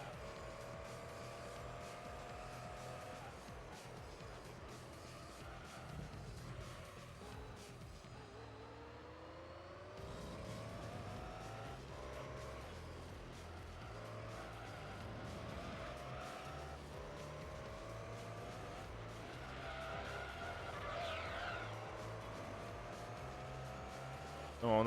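Race cars in a Gran Turismo 3 endurance race, including a Mugen NSX, drone and whine through gear changes with tire squeal, engines rising and falling under faint commentary at moderate distance.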